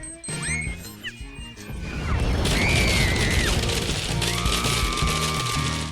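A chocolate bomb goes off in a kitchen food-challenge scene after whistling, sliding tones, then bursts into a loud sustained crash and rumble that lasts several seconds before settling into a lower tonal hum.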